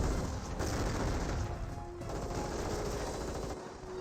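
Sustained automatic gunfire from a German STG assault squad in Company of Heroes rattles densely and loudly, mixed with battlefield noise and dull booms throughout.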